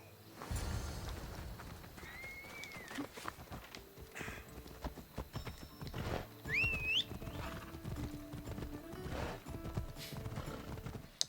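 A horse gallops during a race to the bridge south of Sparta in Assassin's Creed Odyssey. Quick, rhythmic clip-clop hoofbeats run throughout, with a few high whinnies and neighs in between, and no one talks over them.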